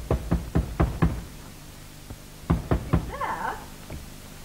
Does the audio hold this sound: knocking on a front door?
yes